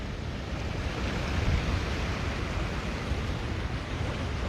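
Ocean surf at Lanikai Beach on Oahu, Hawaii, a steady broadband wash of waves with wind rumble, swelling slightly midway and continuing without any voices.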